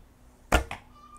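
An arrow leaves a quiet archery bow with a soft thump and a short whoosh, followed by a second fainter thud a moment later, over a low, still background.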